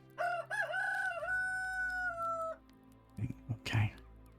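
Chickens and a rooster in the farming game Medieval Dynasty: a drawn-out crowing call rises and holds for about two seconds, then a few short clucks and squawks follow, all fairly close over a low steady background hum.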